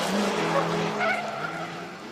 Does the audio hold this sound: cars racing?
yes